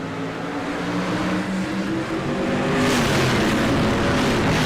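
Race cars at Thompson Speedway roar loudly as the field accelerates through the restart zone, a dense engine drone that swells and brightens over the final seconds as the pack launches.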